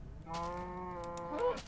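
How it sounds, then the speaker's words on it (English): A single drawn-out cow moo from Minecraft, one close, steady bellow with a slight rise in pitch near its end, standing alone without talk. "Sorry, cow."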